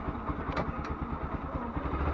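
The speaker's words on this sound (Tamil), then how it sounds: "வண்டி ஸ்டார்ட் பண்ணியாச்சு" Motorbike engine just started and running, a steady low rumble with regular pulsing throughout, fairly close and alone.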